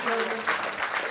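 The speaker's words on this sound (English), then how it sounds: "Great round of applause right there." A bowling-match crowd claps in a dense, steady burst of applause close by at a senior masters event, with a voice speaking over it.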